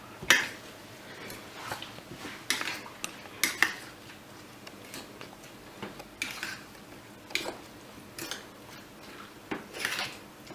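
Ingredients for an omelette are mixed in a bowl, a utensil clinking and scraping against the sides in irregular taps and clatters at close range, with no voices.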